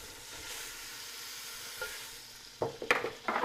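Butter melting in a pan for a black bear stew gives a steady soft sizzle, then a few louder clinks and scrapes of a utensil near the end, close up with no talking.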